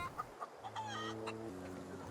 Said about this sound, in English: Oh, hey, Mr. Chicken.